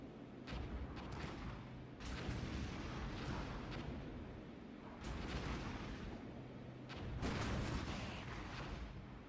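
Gunfire and artillery in the Armored Brigade war game: repeated rumbling booms and bursts of shots rolling in waves, moderately distant, with a heavier cluster toward the end and no voices.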